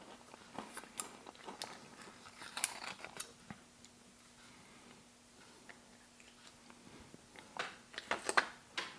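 Someone chews German military ration hardtack spread with apricot jam, with close, intermittent crunching and mouth sounds over a faint steady hum.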